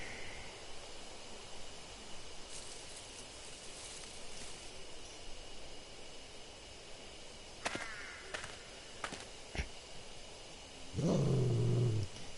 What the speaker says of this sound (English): Hear a loud growl from somewhere.